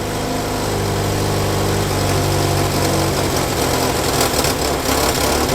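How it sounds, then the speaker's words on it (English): A Ford Prefect engine, fitted with an AC mechanical fuel pump, idles steadily and loudly up close with a constant rumble while someone speaks briefly over it. "at least she's running again off the key"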